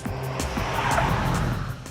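Car on fake part-worn tyres sliding around a track, engine roar mixed with a broad hissing scrub of tyres losing grip, steady and fairly loud for a couple of seconds.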